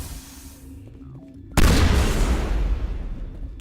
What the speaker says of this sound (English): those explosive rounds do crazy damage